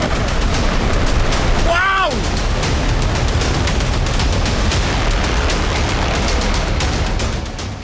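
An Israeli demolition blast destroys a 1.5-kilometre Hezbollah tunnel dug in a Lebanese village near the Israeli border. A loud, sustained roaring rumble with dense crackling runs throughout, and a brief whistling sweep is heard early on.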